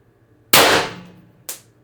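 An IntruBuster Gen 2 air gun fires one loud, close shot with a sharp crack and a decaying hiss, then a shorter sharp burst follows about a second later, with near silence around them.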